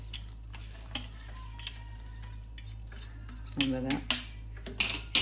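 Crispy corn spooned from a pan into a bowl, with clinks and scrapes of a utensil against the dishes that grow louder and sharper toward the end over a low steady hum, and a brief word spoken in between.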